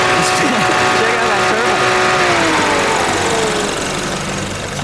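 A turbocharged four-cylinder engine in a 2015 Mustang drift car runs with no hood, close and loud, with a rough revving drone and a falling whine, while someone talks over it.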